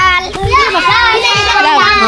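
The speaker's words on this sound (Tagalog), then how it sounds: "Ang ingay ng mga bata." Noisy children play and shout nearby, their high overlapping voices and squeals running continuously over a busy outdoor background.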